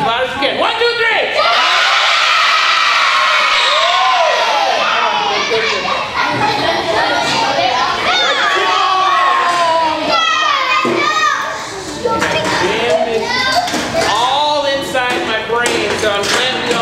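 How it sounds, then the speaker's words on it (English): A crowd of children loudly yelling their names all at once, a dense, continuous roar of overlapping shouts and whoops that fills the room and holds for many seconds. "I want you to yell your name as loud as you can"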